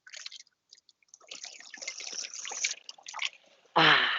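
Water runs from a public drinking fountain in Rome, an uneven, splashing trickle with drips and spatters that grows busier, then gives way to a louder rushing gush at the end.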